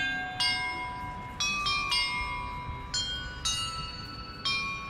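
Bell tower bells in Hogwarts Legacy, a Harry Potter video game, ring out the Harry Potter theme: about seven clear, bright chimes with long ringing decay, struck in a melodic sequence over a soft ambient bed.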